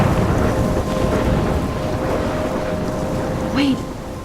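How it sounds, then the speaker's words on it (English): Storm wind and rain in the game Life Is Strange, a steady dense roar of gusting wind and rainfall throughout, with a brief higher whoosh near the end. "I'm trapped in a storm?"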